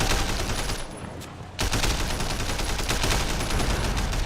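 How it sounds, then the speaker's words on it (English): Gunfire at a car tire in Sleeping Dogs: Definitive Edition, loud sustained shots and bursts filling the whole stretch amid dense game noise, with a brief dip just before the one-second mark. "And I almost missed the tire shot there."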